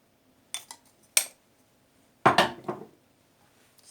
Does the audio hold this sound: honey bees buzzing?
no